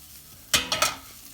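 Ground turkey meat stirring and sizzling in a Ninja Foodi Grill pot, with a few short, close scraping and frying bursts over a quiet background.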